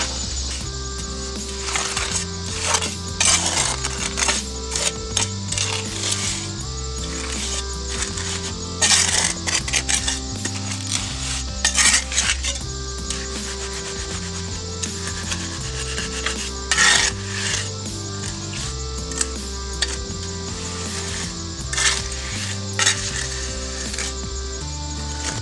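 A bag of concrete mix is stirred and scraped by hand during a driveway and drainage job, with repeated close gritty rubbing and clinking strokes over a steady background of music.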